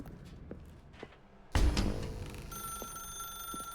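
A telephone in The Stanley Parable starts ringing abruptly with a loud electronic burst, then a steady sustained ring carries on over faint background noise.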